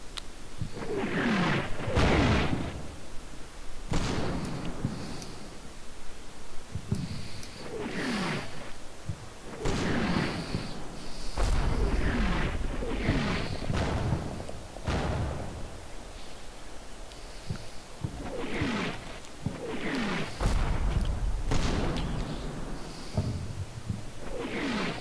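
Artillery shells land again and again in the World War II strategy game Combat Mission Final Blitzkrieg, defending Foy. The blasts are loud, close and rumbling, arrive at an irregular rhythm and overlap each other with no voices.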